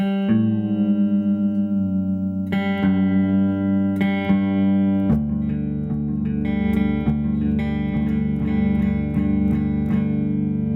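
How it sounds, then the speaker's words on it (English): A guitar string, the G, is plucked and rings while the A string's pitch slides gradually down, then several notes are picked as the strings settle toward matching. "I'm going to play my G string here, and then lower my A to try and match up with that."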